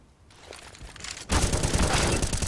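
A dense, loud burst of rapid gunfire from a Counter-Strike match erupts after a quieter buildup, a sustained volley of shots fired close by.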